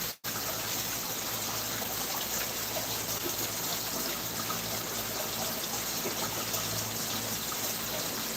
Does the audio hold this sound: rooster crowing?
no